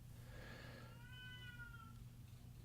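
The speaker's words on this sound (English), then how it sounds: "I have a cat who is not fixed, and she is in heat." A pet cat in heat meows two drawn-out, wavering calls, moderately loud, indoors over a steady low hum.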